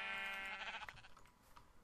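A Minecraft sheep lets out a single wavering bleat, fairly faint, that fades into quiet game ambience with a couple of soft ticks.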